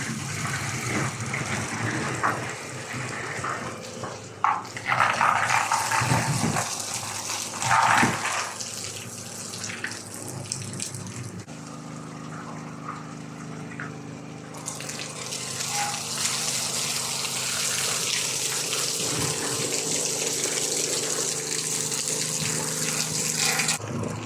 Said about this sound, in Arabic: والآن بيتم اختبار المية للسندوتش بنات